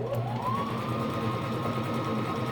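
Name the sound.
sewing machine zigzag stitching over stretched elastic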